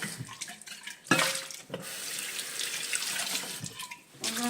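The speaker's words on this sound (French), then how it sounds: "Je vais rincer ma bouteille." Running tap water splashes and gurgles as a bottle is rinsed at a kitchen sink, close and moderately loud, with sharp splashy bursts, brief pauses and shifting flow.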